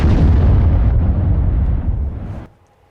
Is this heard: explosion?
yes